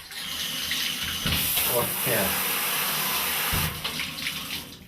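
A household shower is switched on and water gushes at a high flow rate, a loud steady hiss that holds for several seconds, with a brief voice over it.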